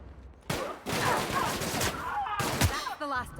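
Gunfire during a firefight in the video game The Outer Worlds, a dense run of loud bursts and crackling shots across most of the moment, with brief gaps between volleys.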